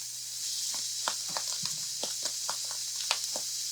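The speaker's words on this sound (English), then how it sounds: "Now we're going to throw in our butter. You can get it even more like toasted if you want, but it's starting to pop" Butter sizzles and pops in a cast iron pan on medium-high heat: a steady frying hiss broken by frequent sharp little crackles, close and continuous, with no voices.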